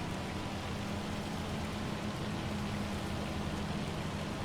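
Hail falls in the video game Farming Simulator 25 as a constant, even hiss of pattering impacts, moderately loud and unbroken, with no talking.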